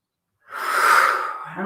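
A single deep exhale of breath during a yoga session rises after a short silence, a breathy, airy whoosh that swells and slowly fades, close and fairly loud.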